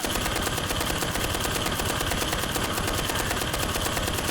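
Automatic weapon fire from the World War II shooter Enlisted, a loud, continuous rapid burst of closely spaced shots with no pause across the whole stretch, close up and dense.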